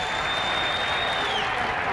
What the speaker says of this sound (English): Now the crowd again. They build up to every 2-strike pitch.